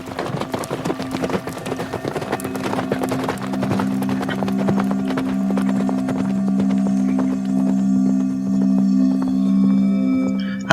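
Hooves of the horse Nanui clip-clop steadily in a flat, open savanna, a close and continuous rhythm under a sustained tonal hum, with a faint whinny now and then.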